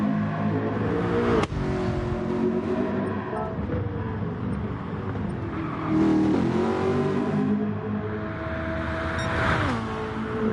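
Race cars lapping Bathurst in a sim racing game, Gr3 cars in a one-hour endurance race, engines droning and shifting pitch as cars accelerate and pass, with a commentator talking over it.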